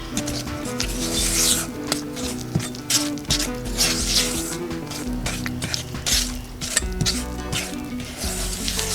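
Peanut butter cookie dough for a small cannabis-infused batch being mixed in a bowl, with continuous close rubbing, scraping strokes in a steady rhythm and no talk.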